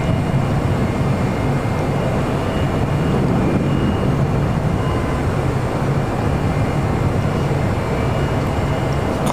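Steady, loud roar of jet engines from Boeing 747s pushing back at LAX, a continuous broadband rumble with no pauses and no talk.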